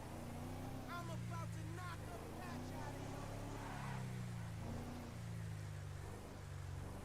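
A Glendale car drives in a GTA game, its engine a steady low hum with the pitch rising and falling as it accelerates, while a person talks over it throughout.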